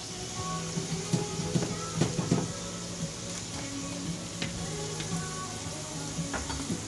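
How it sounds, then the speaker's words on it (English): Sliced onions for gravy sizzle steadily in a pan, a constant crackling fry broken by occasional scrapes and stirring clatter, close and moderately loud throughout. "I got some onions that I sliced up. That's for the gravy. Just gonna cook those until those are translucent."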